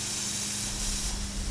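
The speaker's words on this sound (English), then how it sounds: "So after you spray your panel, and you have a little bit of Plasti Dip on the tip, turn the can upside down" A Plasti Dip aerosol can held upside down and sprayed to clear its nozzle, giving a steady, close hiss that runs unbroken and alone throughout.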